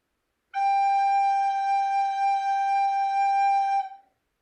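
One long, steady note G from a third-grade music class demonstration, a loud, pure-pitched tone with strong overtones that sustains for over three seconds and then fades quickly, heard alone without talking.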